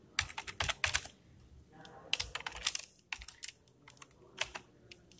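Code being typed on a computer keyboard, close clicky keystrokes in quick uneven bursts separated by short pauses, with no voice.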